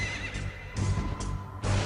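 A pale horse neighs in repeated loud whinnying bursts with hoof clatter mixed in, close and alone without any voices.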